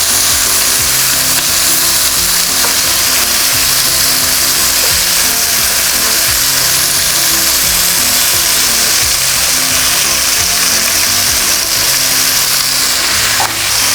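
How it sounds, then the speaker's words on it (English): Sausage sears in a hot pan for tamales, making a loud, constant, crackling sizzle with an even hiss that barely changes, close up and without speech. "what I want to do is just sear it to get color, not to cook it through"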